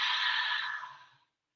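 A single slow, audible exhale during a forward-folding yoga pose, breathy and close, fading out gently after about a second with no talking.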